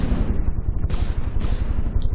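Heavy ship cannons in a naval video game boom repeatedly against a hull, dense rumbling blasts with two sharper cracking impacts rising above a continuous low roar.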